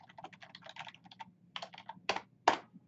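Keys on a computer keyboard clatter in a quick run while router commands are entered, followed by a few louder, separate keystrokes, close by over a low hum.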